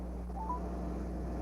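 Telephone dialing tones on a radio broadcast line, two short beeps in quick succession over a steady low hum, faint and brief.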